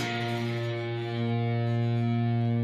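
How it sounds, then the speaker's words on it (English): Single downstrummed electric guitar chord with the 2nd fret of the A string ringing out and the higher strings muffled. One slightly distorted note sustains steadily, close and loud, with no talk. "strum down to make the 2nd fret of the A ring out."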